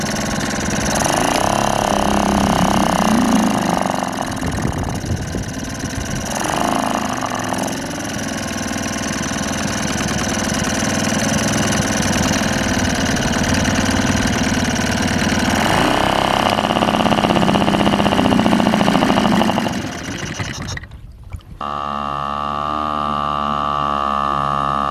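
A carburetted engine runs steadily with a rough, loud mid-pitched drone for about twenty seconds, then cuts out abruptly into a lower, quieter idle-like hum to the end.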